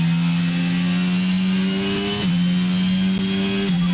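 Formula 1 engines in the F1 22 video game at the race start of the Hungarian Grand Prix, a steady loud droning whine close by that holds level with a couple of small pitch shifts.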